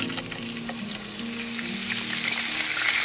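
Fish frying in a pan for a Bengali bata fish curry, a steady close sizzle with light crackling throughout and faint background hum, no speech.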